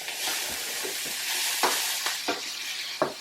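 Fried rice ingredients sizzle in a hot pan, a steady loud hiss with a few sharp stirring scrapes and taps near the end, close and without talk.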